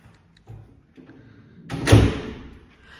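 An apartment building door gives a couple of faint knocks, then swings and shuts with a single loud thud in a quiet entryway.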